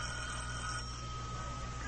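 An old-fashioned telephone bell rings steadily in a vintage radio drama, a continuous metallic ringing tone over faint hum, with no voices.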